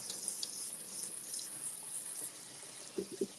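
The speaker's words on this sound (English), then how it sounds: "let's hit it with some water here" Water poured from a sink tap into a wok of chicken lo mein, a faint continuous rushing splash with a few soft gurgles near the end.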